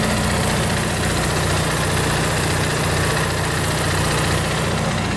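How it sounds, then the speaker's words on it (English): Generator running at a steady idle beside an RV, with a loud, close, continuous low engine drone and vibration that never changes pace and has no voices over it. "it goes over here into my dad's RV, which is running this generator over here"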